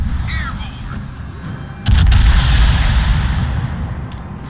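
Bombs dropped on a ship exploding in a naval video game: a sudden heavy boom followed by a sustained low rumble, loud and close, with faint game sounds before it.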